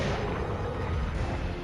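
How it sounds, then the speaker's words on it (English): Special weapon firing at Nemesis in the PS1 game Resident Evil 3: Nemesis, a steady low rumbling blast that fills the short moment at moderate, even loudness with no talk over it. "you gotta fire the special gun"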